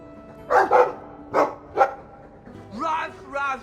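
Dog barking in the video game Dragon Age 2: three or four loud, close barks in quick bursts, followed by higher yipping, whine-like calls near the end.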